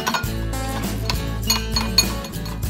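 Metal utensils clink repeatedly against a pot as MSG is stirred into Vietnamese winter melon soup (canh bi dao), in quick, uneven taps with background music.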